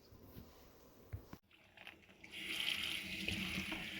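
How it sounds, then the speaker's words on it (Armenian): A tap runs into a sink as tree mushrooms are washed, quiet handling and splashing at first, then a steadier hiss of flowing water swelling in and continuing close by. "հիմա սկսում է լվանալ սունկերը, անջատում է իրարից և լավ լվանում"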